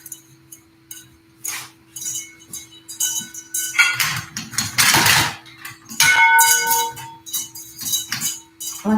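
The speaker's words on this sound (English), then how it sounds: "this is the first time I have set up these chimes since I bought them" Newly set up chimes tuned to the 328 solfeggio frequency ring in bright, overlapping metallic strikes that swell and fade, with sustained shimmering tones and a steady low hum beneath.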